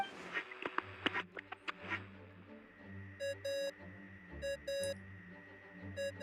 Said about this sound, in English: What's that ringing?